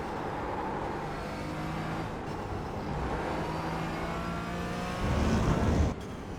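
A Porsche Cayman GT4 on track braking hard in a straight line and then easing through a corner: steady close engine and road roar, with a brief louder, rougher surge near the end.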